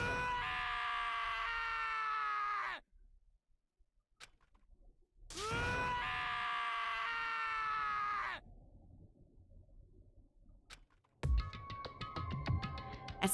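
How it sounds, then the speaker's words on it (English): A character screaming in the video game Danganronpa: Trigger Happy Havoc, two long, loud, wailing screams several seconds each separated by silence, followed by a shorter burst of bright, busy sound at the end. "As Taka's sad screams invaded our skulls"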